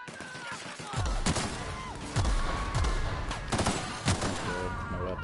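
Rapid gunfire in the sci-fi game The Outer Worlds: a burst of sharp shots with booming low thumps, several separate volleys spread across the moment, loud and close over layered game ambience.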